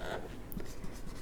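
Pen or chalk writing by hand during a class 10 chemistry lesson, a short run of faint scratchy strokes and light taps over a quiet room.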